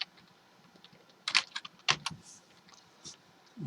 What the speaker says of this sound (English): I type date.